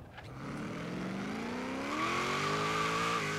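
A supercharged car in Forza Horizon 3 revs hard in third gear, its engine pitch climbing steadily as the boost builds, with a hint of tire squeal near the end; loud and close, without talk.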